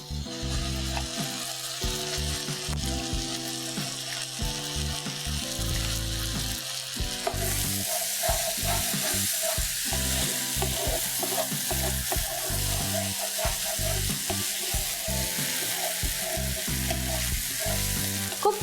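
Masala paste with cashew nuts and raisins fries in a pan, giving a steady close sizzle with stirring scrapes throughout, growing slightly brighter partway through; no voices.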